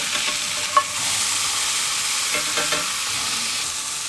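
Smash burgers sizzle steadily in a cast iron pan after being flipped, a loud continuous hiss with a spatula scrape near the start.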